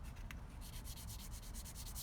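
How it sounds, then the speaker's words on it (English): Fine sandpaper rubs in the bottom of a guitar nut slot, giving a steady, quiet, close-up scratchy hiss with a rhythmic back-and-forth stroke pattern. "I like to just take some fine sandpaper, so it just makes it nice and smooth in the bottom of that nut slot for the string"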